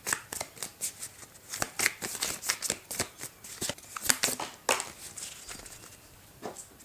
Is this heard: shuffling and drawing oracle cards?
yes